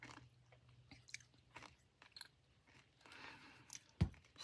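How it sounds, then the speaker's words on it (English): Someone crunches a peppermint candy close up, with scattered soft crackly bites and chewing and one sharp louder crunch, fairly quiet, with no talking. "Excuse me for crunching my peppermint."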